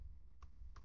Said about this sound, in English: Oh, what am I typing?